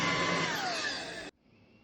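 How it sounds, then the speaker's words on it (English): Upright vacuum cleaner running on thick carpet with its spinning brush roll going, a loud steady whirring roar that cuts off abruptly, leaving a faint residual hum. "The spinning piece doesn't stop, which I've had with a lot of other vacuums actually with this carpet."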